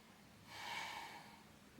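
A deep inhale during a Pilates exercise, one slow breath that swells and fades over about a second, close and soft with no talking.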